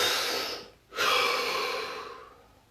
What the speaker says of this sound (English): Deep breath.